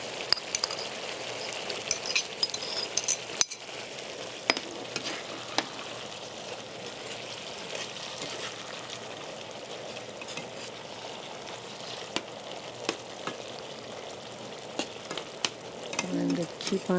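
Vegetables fry in a pan with a steady, moderately close sizzle and crackle, broken by scattered clicks and stirring scrapes throughout.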